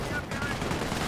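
Commando .30 cal machine gun firing in Company of Heroes, a dense, steady burst of gunfire packed with other battle noise, loud and continuous for about a second.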